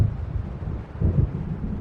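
Low, rumbling wind and distant thunder from an approaching storm in the video game Alan Wake Remastered, a dense, steady roar that swells slightly toward the end, with no speech.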